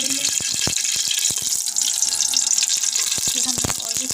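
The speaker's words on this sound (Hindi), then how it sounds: "तो हमने ऑयल इसमें डाल दिया।" Cooking oil going into a pan while preparing matar pulao, a steady hiss and sizzle with scattered crackling pops running continuously at close range.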